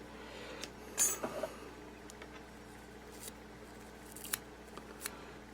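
Scissors snipping while a plant is trimmed and thinned out, a few quiet, close, separate cuts spread over several seconds against a low background hush.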